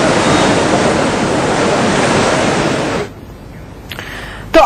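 A swollen, overflowing river rushes in flood at Rishikesh in Uttarakhand, a loud, steady roar of churning water that drops off suddenly after about three seconds, leaving a quieter rumble and a brief sharp noise.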